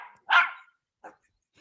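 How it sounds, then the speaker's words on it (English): A dog barks in the background, one sharp loud bark followed by a softer, shorter second bark, with quiet gaps between them. "I thought I just heard a dog bark in his background"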